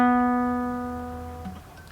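Single acoustic guitar note plucked on the 4th fret of the 3rd string, ringing clearly and decaying slowly, cut off near the end by a faint finger noise.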